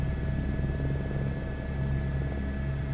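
A small plane's engine idles before flight on the way from St. Augustine to Daytona Beach, Florida: a steady, loud, droning rumble with a constant low hum that runs unbroken throughout, no voices.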